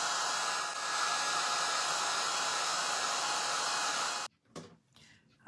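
A hair dryer blows steady, loud, close air over a stenciled wood slice ornament for about four seconds, then cuts off abruptly, leaving faint handling noises.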